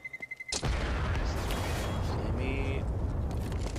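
A flashbang grenade goes off in Counter-Strike during a pro league match: one sudden loud burst followed by a sustained ringing noise, with voices talking faintly underneath.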